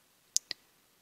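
Two sharp computer mouse clicks in quick succession, close and crisp against near silence.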